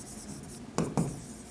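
Pen or marker writing a number on a board or paper during a class 8 maths lesson on patterns, heard as two short scratchy strokes in quiet room tone.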